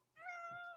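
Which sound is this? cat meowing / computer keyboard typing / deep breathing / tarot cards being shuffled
cat meowing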